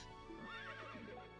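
A war horse whinnies faintly in the stables of the video game Berwick Saga, with a wavering neigh over a steady low ambient hum.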